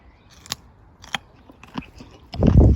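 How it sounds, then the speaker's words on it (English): Close-up crunchy munching on a freshly picked allotment vegetable, a few sharp separate bites spaced out, then a louder burst of chewing at the end. "Sorry, having a munch"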